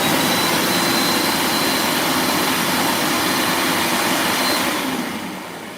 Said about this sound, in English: I'll put my seamer down now on it for just a second, so it's going to be just a little bit loud for just a second